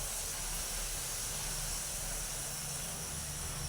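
Luchi fry in a small amount of hot oil, giving a continuous, even sizzling hiss that stays steady throughout with no voices.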